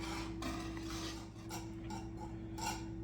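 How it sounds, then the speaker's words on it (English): A spoon stirs blackberry jam in a pot, scraping and clinking against the metal in uneven strokes over a steady low hum, close and moderately quiet, with no talking. "gotta stir it constantly because otherwise you'll burn the sugar"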